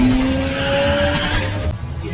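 A getaway car skids during a chase in an action film, its tires squealing in a sustained, loud screech with engine roar underneath. The screech fades out near the end.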